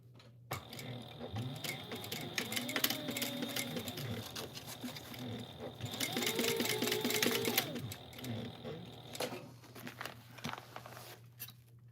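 Home sewing machine running a long line of stitching across the bottom of a holiday project, a steady close whir and rapid needle patter that speeds and slows over twelve seconds, with faint talk underneath.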